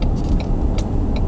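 A car drives past the market in Turner, Oregon, its low engine rumble steady and close for a short moment with faint clicks on top.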